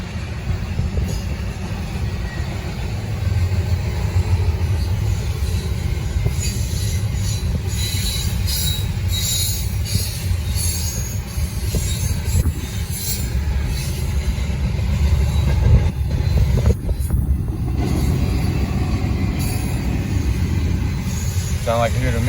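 A Norfolk Southern freight train rolls past on the Charlotte District with a loud, steady rumble of wheels on rail, high metallic wheel squeals rising in places, while people chat nearby.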